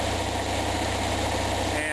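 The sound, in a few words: Onan generator engine running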